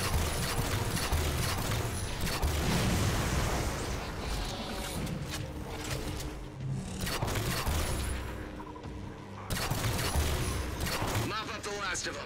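Rapid enemy gunfire from a Halo-style shooter, with a fuel rod weapon in play, comes as dense sustained bursts and booms that run throughout, broken by brief lulls, with players talking over the fighting.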